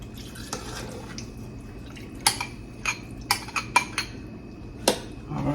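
A spoon scraping and clinking against a mixing bowl in a home kitchen, a series of irregular sharp metallic taps close by over low background noise.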